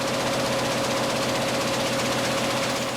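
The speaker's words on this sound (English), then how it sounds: "Without so much as a twitch, the presses keep rolling." Newspaper printing presses run steadily, filling the space with a loud, unbroken mechanical roar and a fast, even rattling hum with no pauses or talk.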